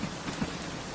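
Steady rain with a soft, even hiss and faint patters of drops, alone and unbroken.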